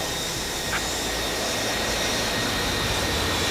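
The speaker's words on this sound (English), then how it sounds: "The 6 J-47s wind to life one by one." Six J-47 jet engines winding to life on an aircraft, a dense, steady roar with a thin high whine running through it, loud and unbroken throughout.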